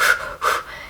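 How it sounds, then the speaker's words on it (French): Short, shallow, rapid breathing of the kind that can happen during labour, shown as two quick airy breaths in under a second, close and clear with no talking. "si jamais vous vous retrouvez dans cette respiration courte et peu profonde"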